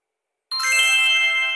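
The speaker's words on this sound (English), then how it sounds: "That's the ringtone that once you download the Gloria Food app, it's letting you know that someone has placed the order" The Gloria Food app's new-order ringtone chimes from a mobile phone, starting abruptly after silence as a bright, sustained, multi-tone electronic jingle.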